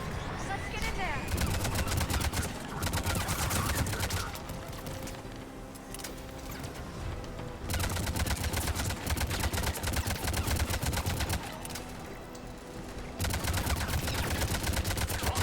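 Rapid gunfire in a Mass Effect 3 battle against Cerberus troops at a checkpoint, dense bursts of automatic fire in several long stretches broken by short lulls, with combat noise and voices mixed in.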